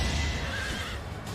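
A horse neighs loudly in Fire Emblem Three Houses, its whinny cutting through battle clatter and hoofbeat-like clopping, with a steady dense bed of game noise beneath.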